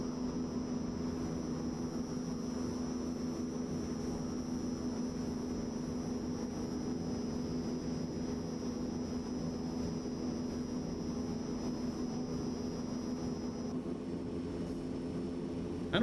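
A video game airplane engine drones steadily at a low, even level throughout, a constant hum with no talking.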